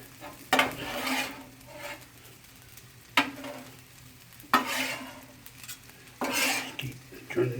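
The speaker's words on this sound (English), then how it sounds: "it's just a turn and mix the veggies with the rice" Vegetables and rice for chicken fried rice are turned and mixed in a sizzling pan, with four distinct scraping, clattering utensil strokes over a low steady fry.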